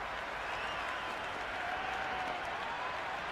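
Crowd applause after a boundary in the Cricket 26 video game, a steady, broad wash of clapping and cheering that holds at an even level throughout.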